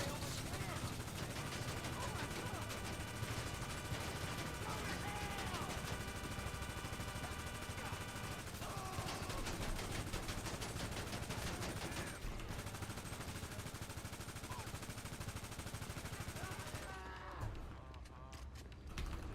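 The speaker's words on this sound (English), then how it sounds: "I'm shooting that person. They're getting shot." Video game gunfire aimed at a person, bursts of rapid shots repeating over a busy, loud background of game sound and music, with a voice talking over it.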